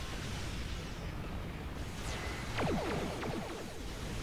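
Torpedo and cannon fire explode in Star Trek Online space combat, faint muffled blasts with quick sweeping streaks of weapon fire over a constant dense roar.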